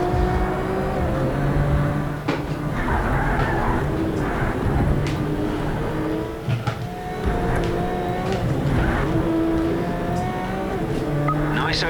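Race car engine roaring around a track in Project Cars 3, with rising and falling revs, gear shifts, tyre squeal and other cars passing, someone talking over it.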